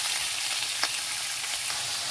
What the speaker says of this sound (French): Faire cuire l'ail échalote et puis la viande.